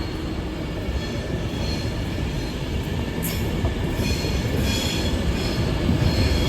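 A London Euston to Glasgow Central passenger train departing Carlisle station, a steady loud rumble of wheels and rolling stock with faint squeals of wheels on rail, continuous throughout with no talk.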